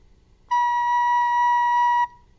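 A recorder plays the note B with the thumb hole and one finger covered: a single clear, steady whistle-like tone held for about one and a half seconds, alone and close.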